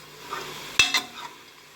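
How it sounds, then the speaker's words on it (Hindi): Masala frying in a pan gives a soft, steady sizzle, broken by a sharp metallic clink and scrape of a spoon stirring against the pan, heard close and alone. "तो देखिए मसाला हमारा भुनना शुरू हो गया।"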